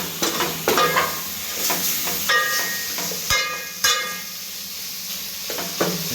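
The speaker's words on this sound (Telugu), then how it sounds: "so this is chicken sambar చేస్తున్నాడు వంట మాస్టర్" Chicken sambar stirred in a pot as it cooks, with a steady sizzle underneath and repeated scraping, clinking strokes of a utensil against the vessel, close and fairly loud.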